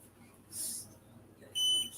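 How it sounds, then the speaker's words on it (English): A kitchen oven timer chirps with two short, high electronic beeps a second apart, the second louder and more sustained, over quiet room background during baking. "Stop the timer. Don't need that beeping at me."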